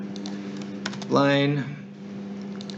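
Computer keyboard typing comes as a few light, scattered clicks beneath a voice speaking over a steady background hum.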